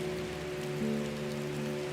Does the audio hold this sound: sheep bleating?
no